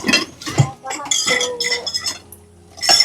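Dishes clatter and clink in a home kitchen sink during washing, sharp knocks of pots and cutlery up close, with people talking over the clatter.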